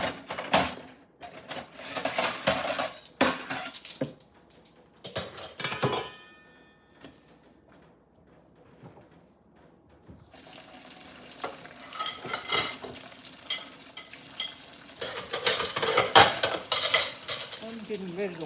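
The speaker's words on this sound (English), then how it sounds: "I'm getting ready to wash dishes." Dishes, cutlery and pots clatter and clink in a kitchen while being readied for washing, in irregular bursts of scraping and knocking with a quiet lull midway, close by.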